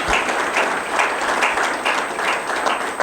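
An indoor audience claps steadily in a warm, dense burst of applause that carries on without pause through the moment, loud and close, with no voices standing out.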